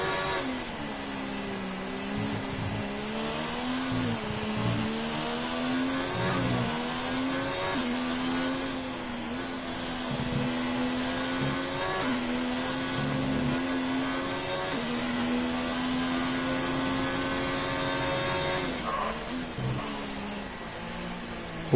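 A Formula 1 race car in an F1 video game laps the Marina Bay street circuit in Singapore, its engine whining steadily and shifting pitch with gear changes, loud and continuous with no talk.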